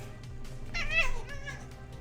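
Cat giving a single close, rising-and-falling meow over a quiet background hum.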